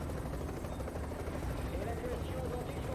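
A helicopter in the video game The Division thrums with a steady rotor drone, fairly faint beneath people talking.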